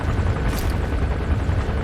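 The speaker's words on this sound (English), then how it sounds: "There's a chopper landing." A helicopter lands in Metal Gear Solid V, a loud, dense rotor roar with heavy low-end thumping that fills the scene without a break.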